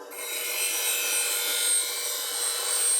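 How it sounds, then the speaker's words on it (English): Steady, continuous grinding of steel off the heel of a bowl gouge on a sharpening wheel, a bright sustained hiss and rasp heard alone without talk. "You're going to see me grind"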